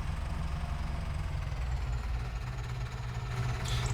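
Tractor engine idling with a mulcher attached, a steady low throbbing drone with a slight knocking pulse, close and continuous throughout.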